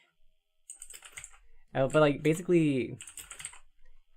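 Someone is typing on a computer keyboard in a quiet room, with fast bursts of light key clicks while a person talks casually over part of it.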